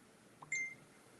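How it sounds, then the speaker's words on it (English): A phone notification going off once near a live crochet chat, a short bright electronic tone with a quick double chirp, faint against a quiet room background. "my phone's going off"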